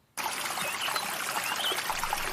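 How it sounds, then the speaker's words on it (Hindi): A large river suddenly bursting into being in a Hindi magic folk tale, heard as steady broadband rushing and trickling water that starts abruptly after a brief silence and flows on evenly, close and full. "उसने फिर से फल का उपयोग किया और गांव में एक बड़ी नदी उत्पन्न हो गई"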